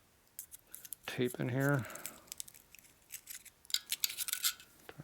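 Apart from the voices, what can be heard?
glue popping off inside a chrome taillight being opened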